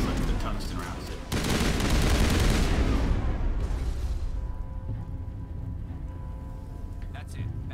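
Gunfire in the Mass Effect video game comes as bursts of rapid automatic shots and booming impacts. The heaviest crackling volley is in the middle, then it thins to scattered shots under a low hum, and a voice talks over it.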